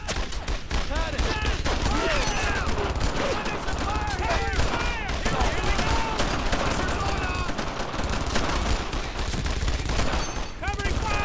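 Dense, continuous rifle and machine-gun fire from a World War II shooter game, loud and relentless throughout, with shouted voices mixed in under the battle noise.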